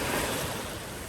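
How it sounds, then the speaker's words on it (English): Ocean waves roll onto a beach in a broad, steady wash of surf, loud and continuous with a faint wind-like hiss and no voices. "Here comes the waves."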